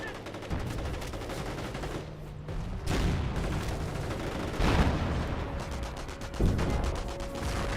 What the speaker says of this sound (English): Pioneers taking some fire there.